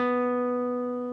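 A single guitar note picked once on the 10th fret of the D string, ringing clear and steady with a bright harmonic tone and slowly fading, alone with no talk.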